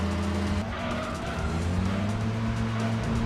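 A race car in Gran Turismo 2 revs steadily with its engine drone and tires squealing, loud and continuous, with a slight dip and shift in pitch partway through as the gear changes.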